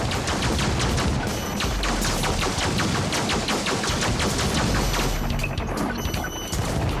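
Gunshots in the Superhot VR video game crack in rapid, dense volleys with smashing crashes mixed in, loud and continuous without talk.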